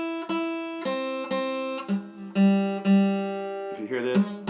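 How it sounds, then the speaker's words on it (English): A guitar repeatedly strums a C note where a finger touches the third string, giving a slightly buzzing, muffled tone; several plucks in a row, close and clear. "If you hear this, that means your finger is touching the third string."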